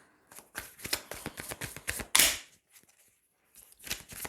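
Tarot cards shuffle and snap from a deck in quick, crisp riffling bursts, with one sharper slap near the middle, then a short pause before a few more card flicks. The sounds are close and fairly quiet with no talk.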